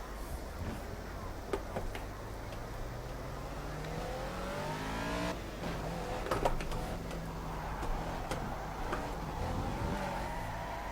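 A car engine revs and rises through the gears while drifting in Project Cars, a steady mid-level drone with climbing pitch sweeps and occasional tire or gear clicks.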